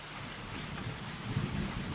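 Low rumbling thunder rolls steadily beneath rain on a wet, dark night, with a faint high insect-like hiss running throughout; the rumble swells slightly toward the end.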